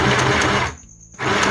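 A mini sewing machine backstitching fabric, its loud whirring motor running steadily, cutting out briefly for a pause, then resuming at the same close, even hum.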